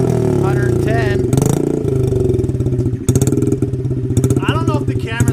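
A Honda CRF 50 engine runs loud and close with its exhaust baffle removed, a raspy, uneven motorcycle drone with blips of revving and clattering, as someone talks over it.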